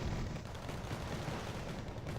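Sustained gunfire from a real-time strategy war game as a unit is shot up, a dense continuous crackle of shots and rumbling impacts at steady loudness, with no talk.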